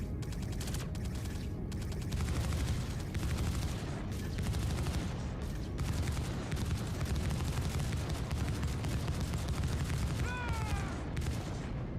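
Remote side gunner turret fire in the space game Star Citizen, a steady, rapid stream of shots over a constant engine rumble, moderately loud and unbroken for the whole stretch.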